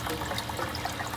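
Water gushing steadily out of the bottom drain of an aquaponics mineralization tank, a continuous close splashing pour with no talk.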